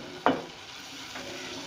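A spoon scrapes and presses softened tomatoes in a frying pan of keema masala, one sharp clack followed by a soft continuous sizzle.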